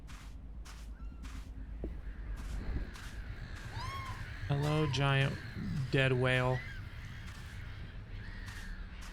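Harsh, crow-like cries from seagulls in the video game Minute of Islands, a few rough squawking calls rising over steady ambient background, with a voice speaking briefly at the start.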